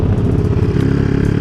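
A motorcycle engine fitted with a new carburetor revs loudly and close, its rough, pulsing clatter filling the short moment without any voices.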